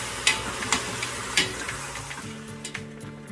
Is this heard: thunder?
no